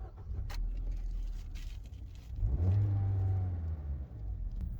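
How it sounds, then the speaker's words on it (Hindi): A Maruti Suzuki Baleno Delta 2022 with a 1.2-litre VVT petrol engine starts up: a short crank, then the engine catches and revs briefly before settling into a smooth, steady idle, close by. "आइए गाड़ी को स्टार्ट करके देखते हैं।"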